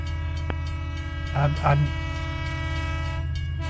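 A train rumbles steadily past at a crossing, with a low continuous drone and a harmonic horn-like tone underneath, while someone speaks briefly over it.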